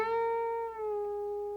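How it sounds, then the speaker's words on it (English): A guitar note at the 10th fret bent up a whole tone and smoothly released, ringing clearly on its own and slowly fading. "let's try a whole tone bend and release."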